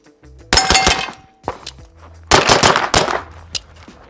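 Sharp, loud gunshots ring out from a Flux Raider Sig P365 pistol, fired in two fast bursts with brief pauses between them, followed by a single later shot, each with a metallic ring.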